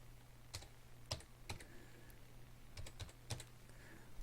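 Fingers tap out a two-factor authentication code on a computer keyboard: a handful of crisp, separate keystrokes in two short bursts, close and fairly quiet, with no talking.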